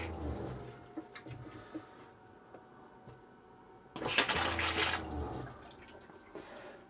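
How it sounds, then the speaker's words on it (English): A Thetford toilet flushes just after a ventilator kit install, a short, loud rushing burst of water about a second long, set amid quieter background noise with no speech. "Hopefully we've still got a flush function happening"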